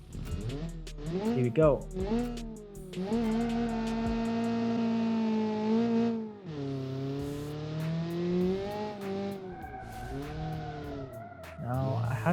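A 1987 hot hatchback with 188 horsepower is driven hard around a complex track, its engine loudly rising and falling through the gears with close, steady revving. A voice speaks briefly at the start.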